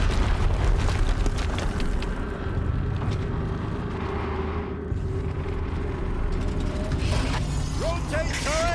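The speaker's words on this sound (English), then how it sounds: "Another explosion." Explosions and heavy booming rumble in the video game Horizon Zero Dawn, set in the Maker's End level, with dense low-frequency roar throughout and a few sharp metallic whistles near the end.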